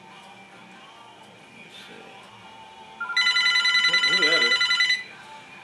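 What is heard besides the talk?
telephone ringing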